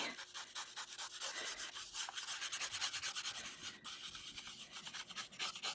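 A handmade brush scrapes and rubs across a drawing surface in quick, steady strokes, a dry scratchy texture close up and continuous with no voices.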